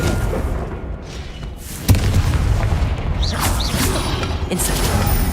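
The Confringo fire spell explodes in Hogwarts Legacy with one sharp, loud boom. Busy battle noise and rumble continue around it.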